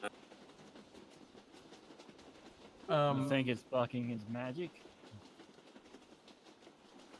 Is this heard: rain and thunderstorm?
no